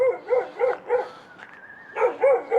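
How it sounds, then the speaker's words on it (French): A dog barks in a steady series of about eight sharp, moderately close barks with a brief pause midway, heard at a campsite in Spain with no talking over it. "Ah, le chien, il est pas content, lui."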